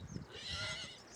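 A single horse from a troupe trained for equestrian shows lets out a faint, distant whinny lasting about a second, with light hoof movement underneath.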